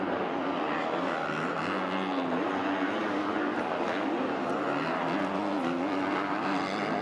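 Motocross bikes climbing a hill during an MX2 race at the 2012 MXGP of Bulgaria, a steady loud wall of revving engines that rise and fall in pitch together, with no clear break.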